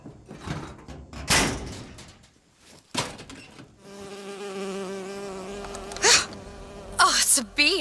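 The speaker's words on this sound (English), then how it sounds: "Oh, it's a bee." Sustained insect-like buzz of a bee in the video game BioShock Infinite, droning for a few seconds between louder bangs and rustles, fairly close, with little talk.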